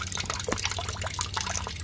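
Coolant drains from the radiator of a lifted Jeep Cherokee XJ in a steady, close trickle of splashing, dripping liquid that runs continuously with no talking.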